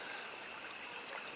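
Creek water flows steadily nearby in the Gippsland bush, a soft continuous trickling wash with no voices.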